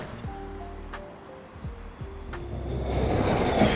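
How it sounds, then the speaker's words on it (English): Water pouring down inside an art installation that holds furniture, a steady rushing wash that grows louder toward the end, with faint scattered knocks and a low background hum. "This is water coming down, and inside there's some furniture."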